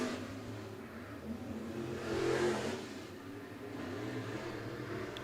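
Topless B mod race cars circle a dirt speedway at Coles County Speedway, a mid-pitched engine drone heard from a distance that swells as cars accelerate past and then recedes.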